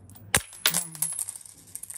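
A coin drops and rings into a corner twice, each sharp metallic strike followed by a fading chime and light rattling as it settles, then a brief scatter of small clinks.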